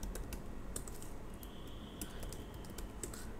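Steady clicking of keys on a computer keyboard as someone types code, a continuous close patter of keystrokes with no speech.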